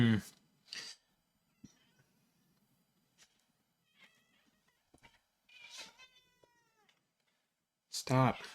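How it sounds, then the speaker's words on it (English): Upset house cats let out several meows and drawn-out wails, some loud and near, others fainter, spread across a quiet room with long pauses between calls. "Man, I've got really upset cats today."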